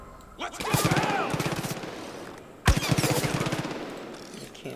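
Gunfire in the Far Cry 5 video game comes in two loud bursts, each a sharp shot followed by rapid repeated automatic fire that rattles close by with a ringing tail, while a voice talks faintly underneath.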